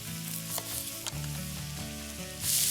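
Corn kernels sizzling in a hot pan for a black bean, corn and tomato salad: a steady, close frying hiss with occasional stirring scrapes, swelling louder near the end.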